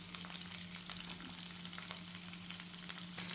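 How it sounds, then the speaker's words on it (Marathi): Onion sizzles and fries in a pan with a steady, soft crackle and occasional small pops over a low hum, close by and with no voices. "याच्यामध्येच आपल्याला कांदा पण भाजून घ्यायचा"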